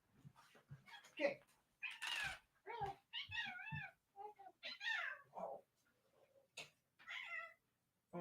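A pet cat named King meows repeatedly up close, a string of insistent, wavering cries with short pauses between them, some drawn out and rising, while a person's voice breaks in a few times.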